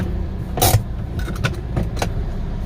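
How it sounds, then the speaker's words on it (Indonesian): A car being parked near an old factory, low engine idle under a few sharp clicks and a door-like thump, with keys jangling faintly. "kita parkir mobil di sini dulu ya"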